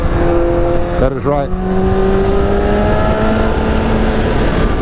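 A liter-class sport motorcycle engine drones steadily, with a quick throttle blip causing a brief rising-and-falling rev, followed by a smooth, near engine tone; a voice speaks briefly.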